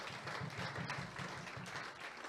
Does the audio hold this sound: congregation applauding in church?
yes